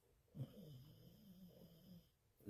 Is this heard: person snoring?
yes